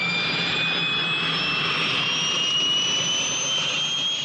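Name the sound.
aircraft jet engine accelerating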